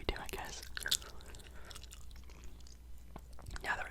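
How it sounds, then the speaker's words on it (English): Close, quiet ASMR gum chewing with wet mouth clicks and soft smacks scattered irregularly, alongside faint whispery mouth noises and a low steady hum. "sort of way that I do gum chewing videos is I sort of keep it towards the back of the mouth"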